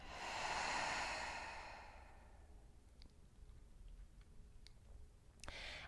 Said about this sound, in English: Take another deep breath in and a cleansing breath out